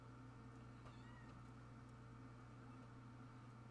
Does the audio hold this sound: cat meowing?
yes